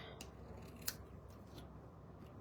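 Scissors snipping bee-patterned craft paper on a tabletop, a few quiet dry cuts spaced apart with a sharper snip in the middle and a louder crunch at the end.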